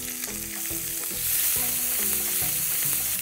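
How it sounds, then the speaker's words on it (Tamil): Chopped onions sizzle and fry in hot oil with curry leaves in a pan for a mushroom curry, a steady close crackling with occasional stirring scrapes. "ஸோ இப்போ இந்த வெங்காயம் போட்டிருக்கேன்."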